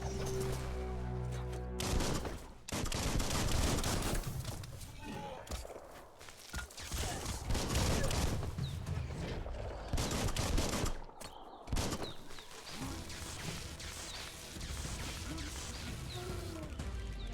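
Gunfire and fighting in the video game Biomutant, with bursts of rapid shots, crashes and impacts that start and stop across the scene, loud and dense throughout.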